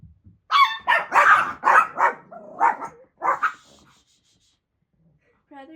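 Dogs barking in a quick run of sharp, nearby barks over about three seconds while chasing a thrown ball, followed by quiet and a faint whimper.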